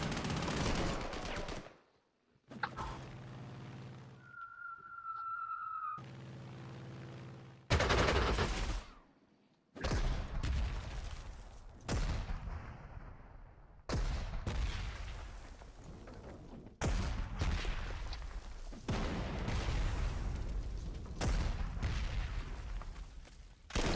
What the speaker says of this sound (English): counter battery fire